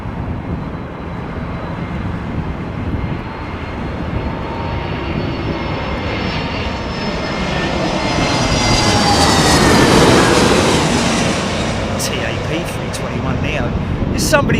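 An airliner at London Heathrow Airport during Storm Kathleen, its engines roaring loudly and steadily with wind, building to a peak near the middle and easing slightly toward the end, with talk over it.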